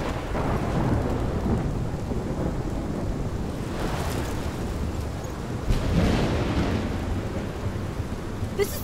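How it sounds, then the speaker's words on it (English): Thunderstorm with steady rain in the video game Life is Strange, a dense continuous hiss of rainfall with low rumbling thunder rolling through and swelling twice, loud and close throughout. "My storm!"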